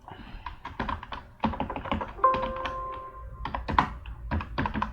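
Numbers are typed into Notepad on a computer keyboard, with quick irregular bursts of close, crisp key taps and a few heavier thunks of the keys, with no voice present.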